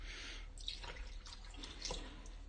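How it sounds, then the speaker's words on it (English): Milk poured from a carton into an empty soup can in a home kitchen, a faint steady trickle and splash with small drips, quiet and close. "So I poured milk into my can."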